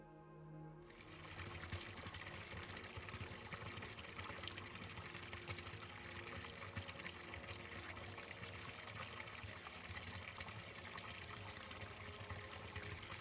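A garden pond being filled by a steady, rushing pour of water that starts abruptly after a brief quiet moment and continues at an even level, close and fairly loud, with no voices.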